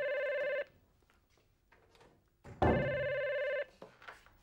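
A telephone rings in two bursts, a steady electronic tone lasting about half a second and then about a second, with quiet room noise in the gap between rings.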